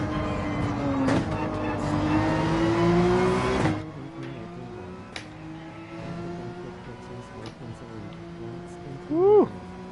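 Race car engine in the Gran Turismo 7 video game drones steadily with loud harmonic tones, a heavy roaring stretch early, then lighter running with a short rising rev near the end.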